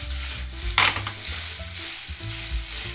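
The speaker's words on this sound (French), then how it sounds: "je finis d'émietter grossièrement mon saumon comme ça" Cooked salmon is broken up with a utensil in a hot pan, with the heat just switched off: a soft steady sizzle runs throughout, crossed by one sharp scrape of a spatula and a few lighter stirring sounds.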